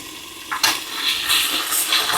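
Chicken cutlets frying in a covered pan give off a steady, close hiss of sizzling oil, with soft crackles and a brief clatter as the pan is handled.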